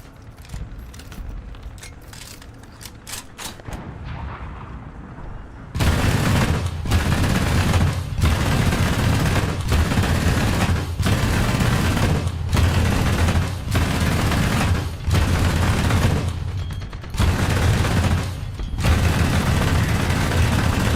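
Aircraft guns in War Thunder fire in long, loud, sustained bursts. After a few short stuttering shots, heavy continuous fire follows, broken by brief regular pauses.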